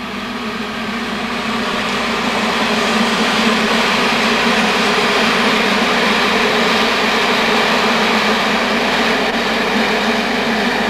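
A train passes steadily nearby at a 1989 bass fishing match, a loud continuous rumble and rolling rail noise that holds evenly throughout with no voices.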